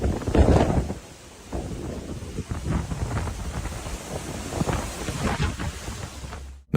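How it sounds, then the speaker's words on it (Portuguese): Strong wind tearing through a forest, loud gusts buffeting the microphone with surging roar and crackling bursts that rise and fall before an abrupt cutoff. "quando o vento decide destruir a floresta ao seu redor"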